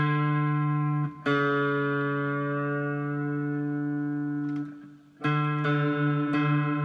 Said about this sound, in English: Now we're going to tune the D string up to that note.